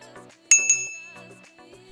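A small notification bell rings with two bright dings in quick succession, ringing out briefly, set among quiet spoken words.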